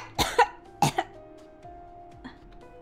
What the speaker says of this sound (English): he coughed as if his lungs were gonna collapse